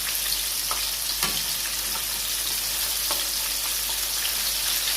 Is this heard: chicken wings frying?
yes